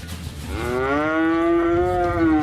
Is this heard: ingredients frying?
no